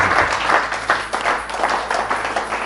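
A church congregation applauds in a dense, steady round of clapping that stays loud and close throughout.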